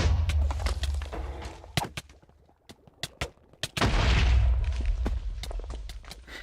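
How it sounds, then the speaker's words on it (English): Explosions and gunfire-like bursts from a modded game playtest, small enemies blowing up as they die: sharp, loud cracks in quick succession, a lull, then more bangs and a sustained rumbling roar. "Where did that explosion come from?"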